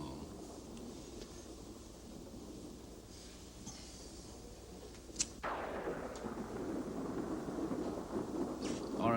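Thunder during a thunderstorm: a low, distant rolling rumble breaks into a sudden sharp crack midway, followed by a heavier, sustained roar that stays loud to the end, with no voices.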